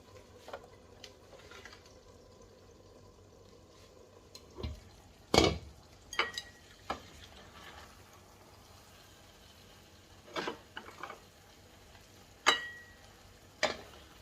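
Casserole being dished up in a kitchen, with scattered sharp clinks and scrapes of serving utensils against pots and dishes over a quiet background, the louder knocks clustered in short bursts.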